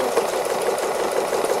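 A sewing machine stitching free motion embroidery on an autumn owl wall hanging, feathering out the design, gives a steady, close, fast mechanical whir that runs without a break.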